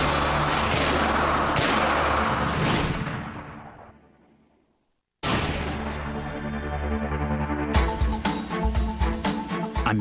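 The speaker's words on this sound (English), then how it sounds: "check out this amazing assault rifle system" An assault rifle system fires in booming shots. A few spaced heavy reports come first, then a long echoing decay and a brief silence, followed by a rapid, loud volley of shots.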